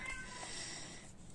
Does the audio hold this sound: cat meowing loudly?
yes